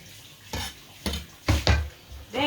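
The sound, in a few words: chopping spinach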